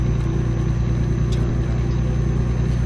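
Peterbilt 579 4x2 truck with a Caterpillar C11 engine in American Truck Simulator, accelerating toward cruising speed: a steady, loud low engine drone with a constant mid rumble, continuous throughout.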